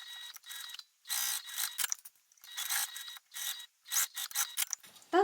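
A sewing machine stitches along the full seam allowance of pieces for a Louie waist bag in bursts of rapid mechanical whirring, stopping and starting several times with short pauses between runs.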